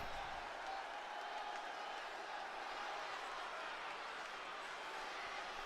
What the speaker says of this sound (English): And you can hear the ovation from the crowd as Andre goes into what he calls sacred